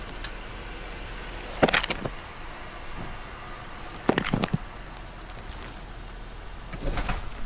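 A car driving over a test object with its front and then rear tire, two distinct bumpy thumps a few seconds apart over a steady low engine rumble, followed by a fainter rolling crunch.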